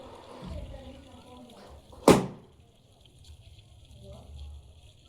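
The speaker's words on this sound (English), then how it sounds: "Our balloon just exploded." A balloon popping, a single sharp, loud burst close by, standing out against quiet room noise with faint speech before and after.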